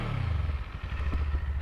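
A Kawasaki Eliminator 500 motorcycle engine revs through its exhaust, a steady low throbbing note close by with a slight surge and clattering texture, no talking.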